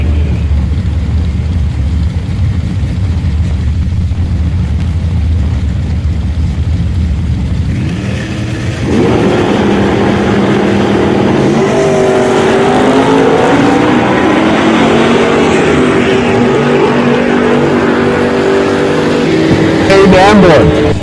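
A 1950 Chevrolet pickup truck at a drag race launches at full throttle, its engine roar building loud and sustained after a quieter idling stretch, with the race announcer talking over it.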